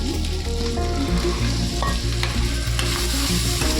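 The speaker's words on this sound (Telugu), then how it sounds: "మటర్ అనేది కూడా మనకి పచ్చి వాసన పోయే వరకు ఇందులో వేయించుకున్నాము" Green peas fry and sizzle in hot ghee with steady stirring, a close, continuous crackle broken by regular scraping strokes, with no voices.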